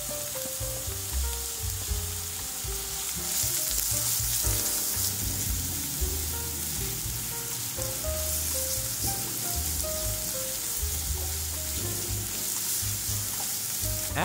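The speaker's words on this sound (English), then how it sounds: "Heat oil or butter in a pan. Sauté onions until they're translucent." Onions sauté in hot oil or butter in a pan, giving a steady dense sizzle and crackle that runs unbroken throughout, with occasional stirring scrapes over a low hum.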